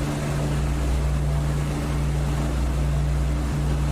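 Twin piston engines of a de Havilland Mosquito drone steadily just after takeoff in the DCS flight simulator, a loud continuous propeller hum with a strong low tone, alone with no talk.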